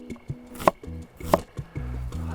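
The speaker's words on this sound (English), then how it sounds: "I'm going to cut them into onion rounds." A knife slices onions into rounds on a cutting board, giving a few sharp, separate chops with short pauses between them, close and crisp with no voices.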